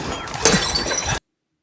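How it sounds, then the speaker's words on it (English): A glass bottle smashing, a sharp bright shatter followed by a scatter of tinkling shards over about a second, then an abrupt cut to silence. "Smashes the bottle."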